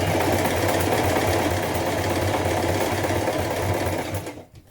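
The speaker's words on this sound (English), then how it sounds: "So that is how the buttonhole function works on this particular machine." A domestic sewing machine runs steadily, stitching the bar tack of a buttonhole on a sleeveless shirt top, loud and close with a constant whirring drone that cuts off abruptly at the end.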